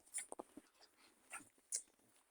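Two dogs play roughly together, one gnawing on the other, giving a few short, faint yelps and whimpers with soft snuffling in a quiet room.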